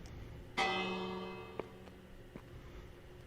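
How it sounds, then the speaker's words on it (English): A lighthouse bell in Minecraft rings once with a bright, resonant clang that slowly fades, followed by a couple of faint soft taps, alone without speech. "Let's ring the bell."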